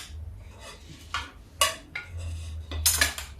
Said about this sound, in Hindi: जब तक मेरा तेल हो रहा है तब तक इन फरों को मैं थोड़ा काट लूंगी।